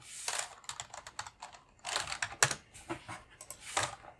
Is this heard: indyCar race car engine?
no